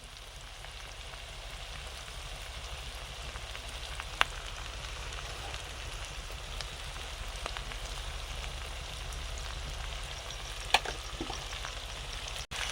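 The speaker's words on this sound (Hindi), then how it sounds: "सोरिष तेल गरम होला परे आपण गोटा मसला सहित तेजपत्र पकेबा और तापरे पियाज पकेबा।" Bay leaves, whole spices and onions frying in hot mustard oil over a gas flame, a steady close crackling sizzle with a few sharp pops and no speech.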